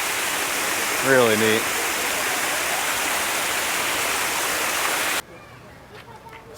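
Water gushing steadily from the mouth of a jaguar statue at a resort pool slide, a loud broadband rush that cuts off abruptly near the end, with a person briefly talking over it.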